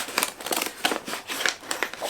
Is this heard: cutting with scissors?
yes